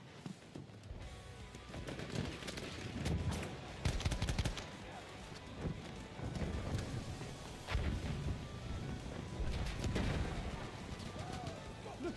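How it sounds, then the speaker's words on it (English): Machine gun fire in the video game Battlefield 1, with rapid bursts and scattered gunshots loud and close, plus other battle noise and a voice speaking now and then. "Look out! Machine gun!"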